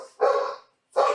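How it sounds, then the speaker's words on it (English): A dog barks twice in quick succession, close and loud, with a short gap between the barks. "Oh my gosh, my dog's going crazy."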